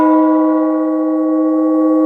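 A large G40 gong, struck with a smaller mallet, rings out in a steady, sustained metallic hum. Several bright overtones hold evenly for the whole stretch with no fading and no voices.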